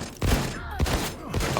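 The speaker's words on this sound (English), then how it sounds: "Let me just use the shotguns for now." Shotgun blasts in the video game Wolfenstein 2 The New Colossus: three loud, booming shots spaced roughly half a second apart, each with a sharp attack and a short rumbling decay.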